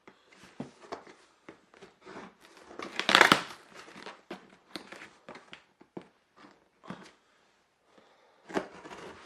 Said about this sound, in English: Let's open this box and see what's inside.